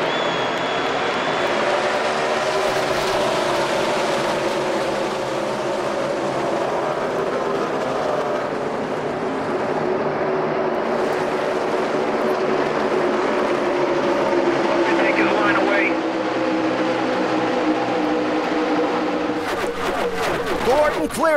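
NASCAR Sprint Cup race cars roar in a dense pack on a restart, a loud sustained engine drone that swells and shifts in pitch, with a commentator talking over it.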